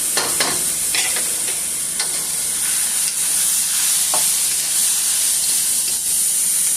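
Spaghetti sauce for a baked spaghetti dish sizzles and hisses steadily in a pan as it cooks down, a close, continuous frying sound with occasional stirring scrapes and soft pops.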